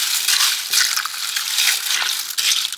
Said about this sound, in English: what I'm going to do is throw this pasta in there, give it a little stir